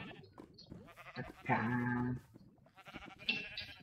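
A sheep bleats in the Minecraft video game, one clear wavering bleat in the middle with brief soft speech around it and a short higher animal cry near the end.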